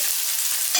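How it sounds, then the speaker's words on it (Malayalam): Chopped onions dropped into hot oil in a Kerala-style frying pan for an egg stir-fry, giving a steady, close sizzle that hisses evenly and swells slightly near the end. "അപ്പോൾ ആദ്യം നമുക്ക് നമ്മുടെ സവോള ഇട്ട് കൊടുക്കാം."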